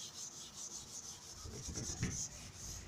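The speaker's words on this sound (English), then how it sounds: "As I rub" An object is rubbed back and forth very fast, making a continuous, soft, rasping friction sound with a slight swell near the end.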